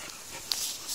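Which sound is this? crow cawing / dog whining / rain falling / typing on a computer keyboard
dog whining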